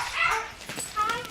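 A shelter dog named Anna gives faint, high whimpering yips, a few short soft cries spread across the moment, with a quiet voice nearby.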